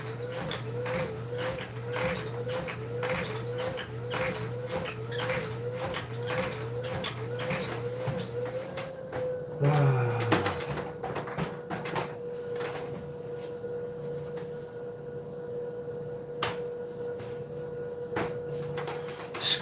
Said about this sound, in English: Squeaking noises like that really bother me.